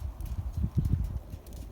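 A horse's hooves clip-clop steadily on the ground while she is warmed up before training, a fairly close, even stepping rhythm with no talk.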